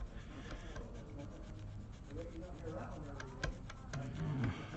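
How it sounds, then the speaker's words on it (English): A cloth rubs polish over old screws on a 1961 Gibson Melody Maker guitar, giving a steady close scrubbing and rubbing sound with faint scrapes and small knocks throughout. "you'll notice these screws will start to shine as I run this polish over this"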